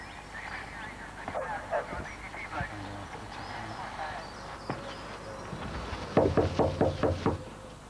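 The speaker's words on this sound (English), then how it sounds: "It's not the kind of place where police come knocking at 6:30 in the morning." Police knock on a house door early in the morning. A quick series of firm, close raps lands near the end, after muffled movement and a voice speaking in the background.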